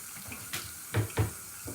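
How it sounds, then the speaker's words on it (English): A kitchen or bathroom tap runs while the water warms up, a soft steady trickle with a few louder splashing bursts near the middle. "So I'm going to go ahead and turn on my water here."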